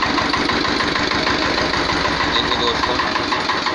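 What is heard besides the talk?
1979 Sartaj antique tractor engine idling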